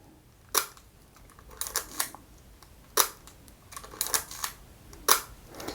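Leica MP film camera being handled, its shutter firing and advance lever winding in a series of sharp mechanical clicks and ratcheting strokes, close and crisp, spaced irregularly with quiet pauses between.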